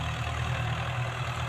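A tractor engine runs at a steady, low, throbbing drone while ploughing a field, loud and continuous with no pauses or other sounds.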